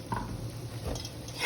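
Oil and gravy being stirred in a pan make a soft, continuous scraping and sizzling, close and steady, with light utensil scrapes and no voices.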